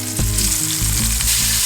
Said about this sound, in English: the fish has been cooking for about 2 minutes